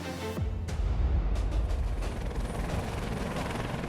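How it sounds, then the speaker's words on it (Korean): Military helicopter flying toward the National Assembly in Seoul at night, a steady low rotor thrum and mechanical whir that is loud and constant throughout, with a brief sharp onset near the start. "군 헬기가 국회로 날아들었습니다"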